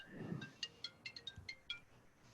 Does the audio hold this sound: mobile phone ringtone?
yes